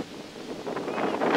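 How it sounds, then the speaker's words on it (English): A severe gust of wind at an outdoor football game roars across the microphone, starting moderate and swelling louder toward the end in a rough, buffeting rush without speech. "there's a severe gust of wind"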